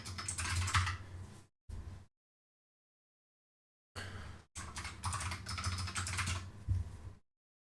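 A computer keyboard clatters in bursts of fast, close typing, broken by a pause of about two seconds, with no talking.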